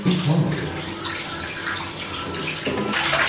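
Shower water runs steadily in a home bathroom during a morning routine, a loud, close, continuous hiss and splash that swells slightly at the end, with no voices.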